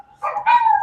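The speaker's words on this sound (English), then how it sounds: "Do you have dogs behind you?" Dogs barking somewhere behind a person, near a farm, two short close yipping barks in quick succession, clear and fairly loud with no talk.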